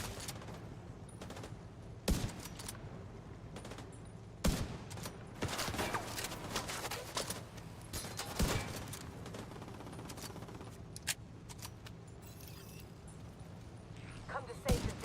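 Bursts of gunfire from a shooter video game in The Division 2, with sharp repeated shots and rapid volleys scattered across the clip over steady background game sound, with someone talking intermittently.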